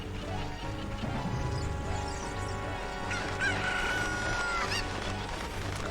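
A chicken in the video game Zelda Ocarina of Time clucks and crows over steady in-game music and effects, loud and close, with a sharp crash partway through.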